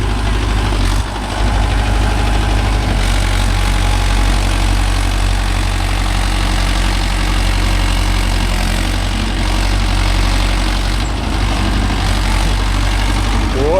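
A Mahindra Yuvo Tech Plus 585 4WD tractor working with a five-point cultivator holds a loud, steady, low diesel drone close up, running continuously throughout.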